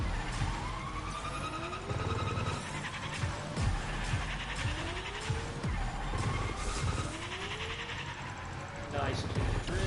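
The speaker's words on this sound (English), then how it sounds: "Nice clean drifts." Cars drifting in Rocket Racing, with engine whine sweeping up and down and swooping tire-skid tones repeating through the stretch, steady and fairly loud, with someone talking over it.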